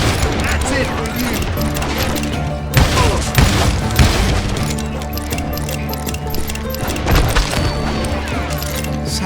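Gunfire in the Western shooter game Call of Juarez: Gunslinger, with sustained loud volleys of shots and booming blasts layered under game music and talking throughout.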